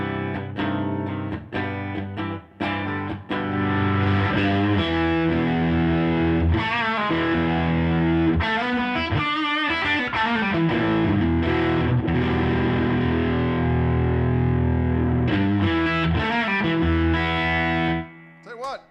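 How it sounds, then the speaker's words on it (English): An electric guitar played through an overdrive pedal, its distorted chords and sustained notes ringing loud and continuous, broken by a few short pauses and picked accents near the start and end. "that pedal sounds good. It's a good sound on overdrive"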